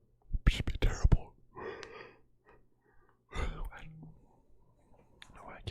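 A man in a soft ASMR-style setting gives a long audible yawn, with breathy whispered vocal sounds, a drawn-out moaning exhale and a second stretched yawn after a short pause.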